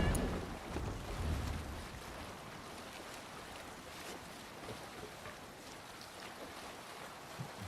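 A Viking longship pushes across open sea in Assassin's Creed Valhalla, with a steady wash of waves and wind noise, louder at the start and then settling into a constant rushing hiss.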